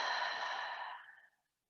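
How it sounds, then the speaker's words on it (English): A long, full exhale during a calm yoga breathing practice, close and breathy, fading gradually to silence. "Inhale fully. Exhale completely."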